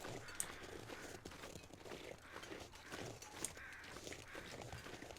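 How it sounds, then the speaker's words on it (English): Crows caw faintly in the distance in the survival game The Long Dark, the calls scattered over a steady outdoor ambience with soft crunching footsteps. "Crows. That means they're circling a corpse."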